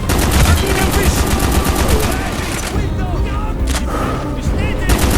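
Dense, continuous gunfire and artillery from the video game Black Ops (Project Nova), with loud rapid shots and booms overlapping throughout, plus shouted voices mixed in the din.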